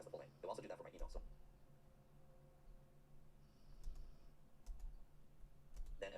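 Keys clacking on a computer keyboard in short bursts of typing, close and fairly quiet, with a voice talking over part of it.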